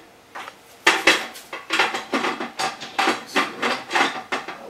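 Metal lid set onto a pickle canner, a run of clattering, ringing metal-on-metal clanks and scrapes repeating in an uneven rhythm, close and fairly loud with no voices.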